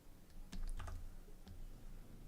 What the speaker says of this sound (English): I'm going to hit M on the keyboard to make a merge node set to plus